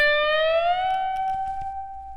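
An electric guitar string bent upward on the B string at the 20th fret, rising by less than a whole step and then holding the raised note, a bright sustained tone heard alone.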